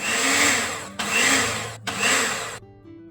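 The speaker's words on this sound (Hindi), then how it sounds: "अब हम इनको 3 मिनट तक हैंड ब्लेंडर से ब्लेंड करेंगे" A hand blender whirs steadily while blending ghee with raw khandsari sugar powder in a bowl. It runs in three loud bursts, with short pauses between them, and then stops.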